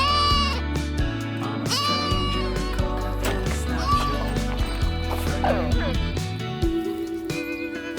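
Goats and sheep bleating on an alpaca farm, loud overlapping wavering bleats in close succession with children's voices and talk mixed in.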